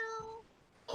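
A house cat gives a single short, faint meow, followed by a brief thump or rustle.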